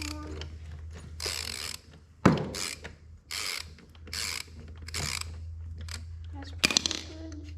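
A ratchet clicks in short repeated bursts during tire maintenance on a Honda, with a sharp metallic knock partway through and a steady low hum beneath, close and fairly loud.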